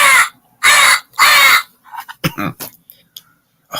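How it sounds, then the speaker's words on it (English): Three loud, harsh crow caws ring out close and evenly spaced, followed by softer, fainter rasping calls and scattered short sounds near a window tree. "I should do that to the crows that stick out. There's right here in the tree sometimes in my window."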